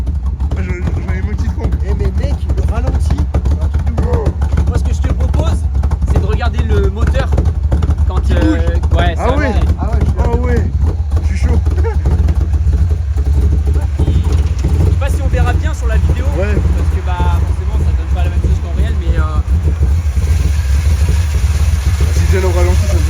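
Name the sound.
classic American car engine idling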